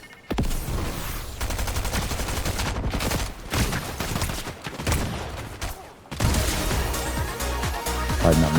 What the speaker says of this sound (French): Il y a un mec qui me shoot.